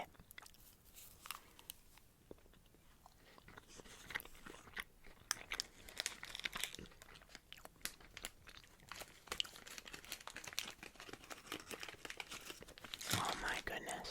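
A Reese's peanut butter cup is eaten up close with crinkling wrapper and crunchy, waxy chocolate bites, followed by soft chewing and mouth sounds. The sounds are intimate and quiet, with faint whispery speech mixed in.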